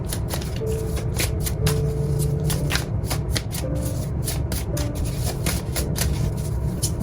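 Oracle cards being shuffled by hand, a continuous riffling and flicking of card stock with repeated sharp snaps, close and moderately quiet, with no talking.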